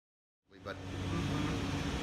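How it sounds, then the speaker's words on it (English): Inside a Lynx City bus pulling away from International Drive in Orlando, a steady low engine drone and road rumble build up after a brief silence, holding close and constant with cabin noise. "We're now on a Lynx City bus leaving iDrive"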